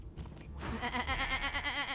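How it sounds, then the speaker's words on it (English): Sheep bleating in the video game Divinity Original Sin 2, a loud, wavering bleat that holds for well over a second, close and prominent over a faint game background. "Oh, there's a sheep there, Gary. You can talk to that."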